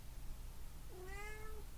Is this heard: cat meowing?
yes